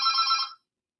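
A telephone rings once in a bright, trilling electronic burst lasting about half a second, then cuts off abruptly into silence.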